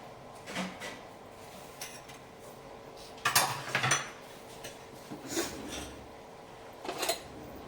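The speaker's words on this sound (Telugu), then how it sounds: "పసుపు ఉప్పు వేసుకున్న తర్వాత కొంచెం మిక్స్ చేసుకోవాలండి" Prawns being stirred with turmeric and salt in a cooking pan, a few scraping, clinking spoon-against-metal strokes in scattered bursts, one longer burst in the middle, with no talking.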